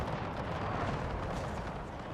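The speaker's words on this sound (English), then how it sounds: "Got enemy cannon fire going through, killing riders as well." Cannon fire in a Napoleonic-era strategy video game, heard as a dense, continuous roar of overlapping booms and rumbling blasts that stays loud and steady throughout.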